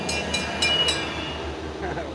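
A train passes as a low rumble beneath a few sharp metallic clicks and squeals, with voices talking over it throughout.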